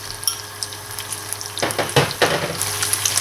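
Sliced beef and onion fry in a pan for creamy bistek Tagalog, a close steady sizzle that swells into louder crackling bursts as the onion is added and stirred.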